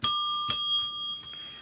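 A bell ringer struck twice in quick succession, bright and close, each strike leaving a sustained metallic ring that fades slowly.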